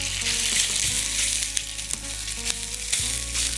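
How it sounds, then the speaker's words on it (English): Chorizo sausage meat frying in a lightly oiled pan, a loud continuous hiss and sizzle with occasional pops and stirring scrapes. "let's get just a touch of oil in, and then we'll get those sausages into the pan"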